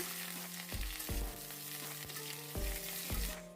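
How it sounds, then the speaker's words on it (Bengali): Oil sizzles steadily in a pan while broad beans fry with potatoes, with a few dull knocks from stirring at irregular intervals. "শিমগুলোকেও আলুর সঙ্গে ভেজে নিচ্ছি।"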